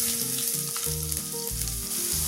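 Loud, continuous sizzle of about twenty small crushed garlic cloves and spices frying in hot oil for a Kerala chicken curry, with faint stirring scrapes underneath.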